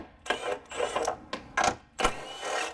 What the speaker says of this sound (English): what I'm going to do is go ahead and swap out to my Milwaukee with a 10mm